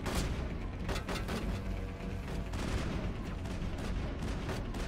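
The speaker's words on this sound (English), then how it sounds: "that was a bigger shot than I was ready for out of here" Rifle fire in the video game Mass Effect: a rapid string of sharp gunshots crackles over dense, loud battle noise, the shots coming close together across the whole stretch.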